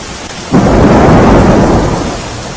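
A sudden, loud rumble of thunder rolls in and slowly fades, over a steady wash of rain in Junagadh district, Gujarat.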